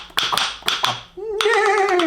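Rhythm sticks tap out a quick galloping pattern meant to mimic a unicorn's hooves: sharp wooden clicks in uneven pairs, then a pause, followed by more rapid taps under a sustained sung or hummed tone.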